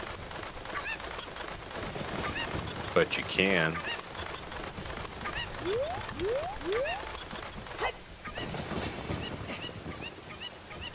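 A chicken in a Zelda game squawks in a short burst midway through, with light game sounds and soft talk around it.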